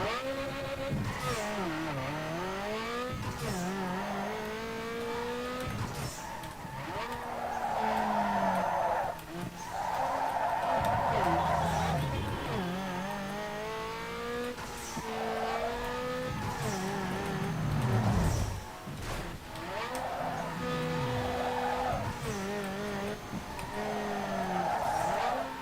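A car in Need for Speed drifts through long, sustained tire squeals over a steady roaring engine, the skids rising and falling in pitch through repeated slides with only brief breaks.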